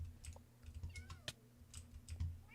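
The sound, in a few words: cat meowing in the Minecraft video game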